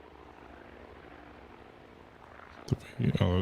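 Aircraft circling in the naval combat game Task Force Admiral, a steady low propeller-engine drone with a faint sea wash underneath, growing louder near the end as a person starts talking over it.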